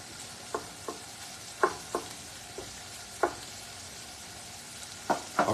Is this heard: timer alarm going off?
no